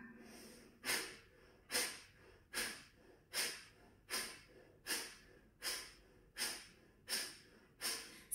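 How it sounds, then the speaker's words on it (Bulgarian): Rapid, forceful nasal sniffs and exhales in a steady rhythm, about ten sharp breath bursts at even intervals, close and clear with no talking, as children do bunny breathing in a kids' yoga exercise. "ние с вас ще го знаем като дишането на зайчето или заешкото дишане"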